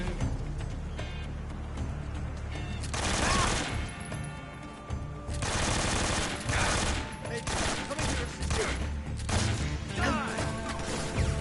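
Gunfire in the stealth action video game Metal Gear Solid 3: rapid bursts of shots and crashing impacts come in clusters over a steady background din, loud and close.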